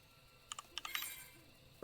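A few quick, close keystrokes on a keyboard while typing a keyword into Final Fantasy XIV chat, a short clattering cluster with a single key tap at the end.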